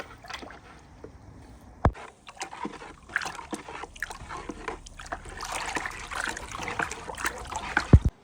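Water sloshes and splashes, irregular trickles and stirring swishes building toward the end, close by, in a preparation for removing salt from bricks. No one speaks.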